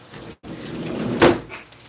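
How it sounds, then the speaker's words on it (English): A window is pulled shut indoors as hail falls outside, giving one sharp thud after a brief scraping slide, with the soft hiss of the storm continuing behind it. "I'm gonna close the window real quick because it started raining"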